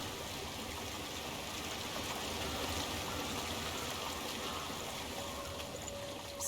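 Stream water flowing in the video game Hellblade: Senua's Sacrifice, a continuous broad rushing and trickling wash, steady and fairly near, with no voices over it.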